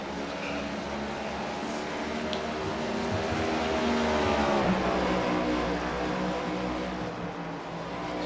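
Race car engines rise and fall steadily with gear changes on the track at Richmond, a continuous loud drone that swells midway and tapers off, with no clear speech over it.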